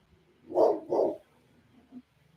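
A dog named Fats gives two quick, fairly close barks in a row, followed by a faint short yip, with quiet room noise in between.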